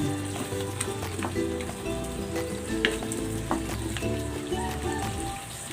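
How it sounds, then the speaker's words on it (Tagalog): Coconut milk and taro stew bubbles and sizzles in a pot as it cooks down for ginataang gabi, a dense, continuous crackling simmer with scattered pops, close and steady throughout. "Pakuluin pa natin para lumabas konti yung mantika nitong ating gata."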